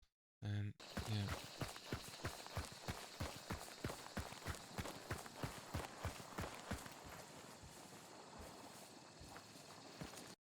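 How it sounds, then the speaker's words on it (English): A player's footsteps in the shooter Hunt: Showdown: a rapid, rhythmic run of heavy thudding steps, close and steady, continuing for several seconds after a brief loud opening noise. "So the footsteps of a dude over here."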